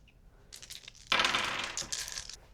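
Dice rolling in a tabletop board game: a few light rattling clicks, then a louder burst of clattering tumbles that rattle on and fade gradually, close by with no talk.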